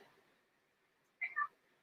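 A cat gives a short, fairly close meow in two quick rising parts after near silence, alone with no talk over it.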